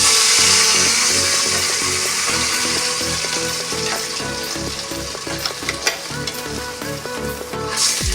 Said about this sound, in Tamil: அரைச்சி அந்த எண்ணெய் கொஞ்சம் காஞ்சதுக்கப்புறம் அந்த மாவை ஊற்றுறோம்.